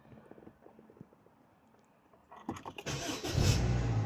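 A 2017 Honda Civic 1.8 E CVT automatic starts up: a short crank after a quiet pause, then the engine catches and settles into a steady, close running hum.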